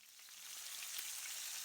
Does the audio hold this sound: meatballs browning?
yes